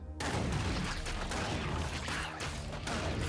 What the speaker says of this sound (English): I see why it's called a straight shotgun now. It shoots in a straight line.